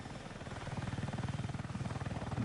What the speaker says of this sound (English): That must be another chopper.